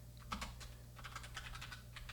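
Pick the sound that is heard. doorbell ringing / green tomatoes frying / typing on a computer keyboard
typing on a computer keyboard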